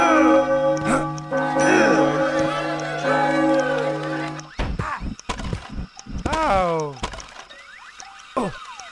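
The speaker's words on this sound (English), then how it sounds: "His eyes drifted to the twin bell towers not far from the clock. Maybe I should give them a good old-fashioned ring." Twin bell towers ringing in the video game Shrek Extra Large: a sustained layered chime first, then scattered bright bell strikes and boinging cartoon tones, loud and near, with game voices among them.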